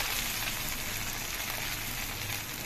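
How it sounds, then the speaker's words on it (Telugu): Gongura leaves frying in hot oil for pickle: a loud, dense, continuous sizzle and crackle, close and steady throughout with no pauses. "ఆయిల్ మరిగింది కదా, గోంగూర వేసుకున్నాను"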